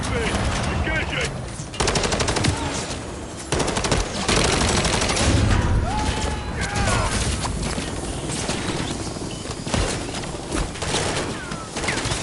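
Sustained automatic gunfire aimed at a helicopter in the Modern Warfare 3 campaign, dense rapid bursts with sharp cracks and brief pauses, loud and close, with shouted voices mixed in.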